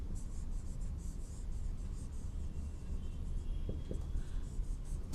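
Chalk or marker scratching across a board during a mathematics lecture on the dot product, a steady soft scraping that runs continuously and fairly quietly with no talk over it.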